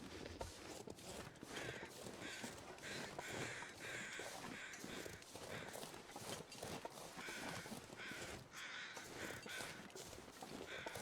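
Crows caw repeatedly over a steady wash of wind and crunching footsteps in the snowy wilderness of The Long Dark, the calls distant and faint, with no speech.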